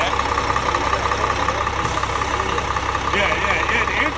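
A Class B truck's engine idles steadily, a loud, close, even rumble with a constant mechanical hum throughout.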